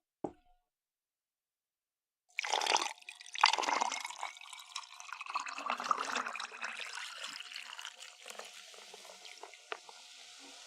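A drink being poured during a live stream, starting abruptly after near silence and running as a steady splashing, gurgling stream with bright drips and plops that gradually thins out toward the end.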